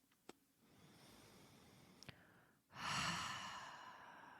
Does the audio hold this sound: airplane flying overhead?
no